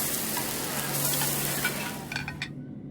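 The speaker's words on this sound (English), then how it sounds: "A fresh catch can go straight on the grill with minimal preparation and it tastes delicious" Fresh fish grilling in Genshin Impact gives a steady sizzle and crackle, with faint clinks of utensils near the end before it cuts to near silence.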